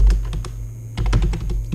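Code is typed on a computer keyboard in GameMaker Studio, a close, loud burst of quick key clicks, then a brief pause and another cluster of rapid taps.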